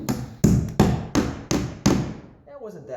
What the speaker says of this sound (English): we'll just hammer it on